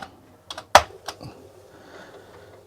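A handful of separate keystrokes on a worn, stiff old computer keyboard that needs hard presses, with one sharp loud clack among softer taps and a quiet hum afterward.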